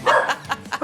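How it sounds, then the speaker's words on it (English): Several dogs bark inside an apartment, a quick run of four or five sharp, close yaps fired off in rapid succession. "That means I have 5 million dogs in my apartment while we record this today"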